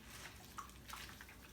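Bitter leaves being rinsed in water, with soft sloshing and a few faint drips and splashes at low level, heard close and with no talking.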